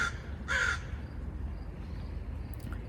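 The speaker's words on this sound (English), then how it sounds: "Just let that crow yell." A crow caws outdoors, one short loud burst standing out over a steady low background rumble, then quiet.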